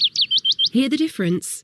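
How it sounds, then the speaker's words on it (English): A willow warbler gives five quick, high chirping notes in a rapid run, close and clear, before a voice speaks over the end. "This is the call of the willow warbler."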